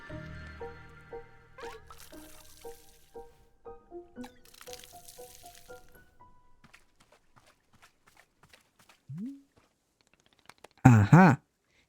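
Plant being watered in the video game Wanderstop: a string of soft musical tones and gentle drips and squishes, then a brief splash-like burst near the end.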